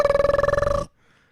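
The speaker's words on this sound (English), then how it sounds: "No, that's a machine gun, you know?" Comedic machine gun sound effect, a rapid buzzy rattle of about twenty evenly spaced pulses with a tonal, electronic quality, loud and close, stopping abruptly after under a second.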